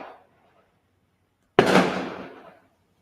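A single firework bursting outside at night, a sudden loud crack at a distance that rolls into a long fading rumble, with a faint voice at the start.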